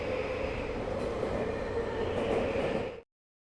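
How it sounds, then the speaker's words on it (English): A train car rumbles steadily along the rails with a constant rolling drone and faint clatter, from a video game, then cuts off abruptly to silence. "As the train car gently rocks back and forth"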